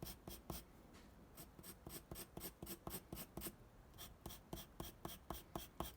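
A pencil scratches rapid overlapping hatch marks on paper, a steady rhythm of short raspy strokes repeating about three per second, close and quiet with no talk.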